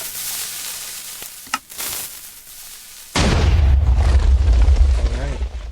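A Minecraft TNT cannon fires, with a crackling hiss and a couple of pops followed by a sudden heavy, rumbling explosive blast that sustains loudly to the end.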